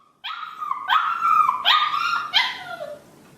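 A puppy whines and barks at night in loud, close, repeated yelping bursts. The high, wavering whimpers rise and fall between the barks, with no voices present.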